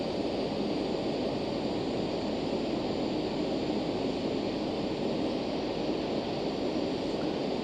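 Citation Jet 525 engines in a flight simulator, spooling up to climb thrust: a steady, broadband jet roar that fills the cabin evenly with no breaks or voices.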